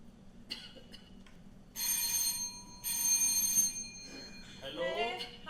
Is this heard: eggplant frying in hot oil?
no